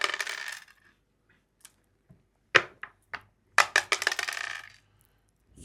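Dice clattering and bouncing on a board game surface, a scattered burst of sharp clicks and taps with a couple of isolated knocks before, alone without talk.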